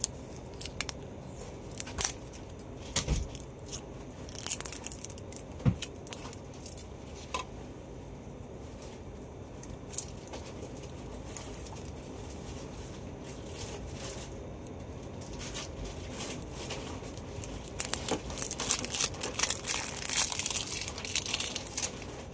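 Plastic and paper packaging crinkling and crunching with sharp snips and tears while a Vitamin C setting spray is unboxed, close and fairly quiet, growing busier near the end.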